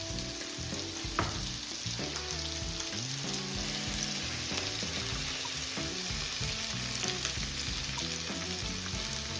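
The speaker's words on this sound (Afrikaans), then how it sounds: "ek gaan dit batch by batch fry" Beef stir fry frying in hot oil in batches, giving a steady, close sizzle that stays even and dense throughout, with no voices.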